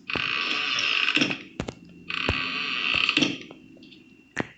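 A door creaking open in a Bendy mod for Minecraft: two long, loud, raspy creaks, each closing with a sharp knock, and faint clicks between them.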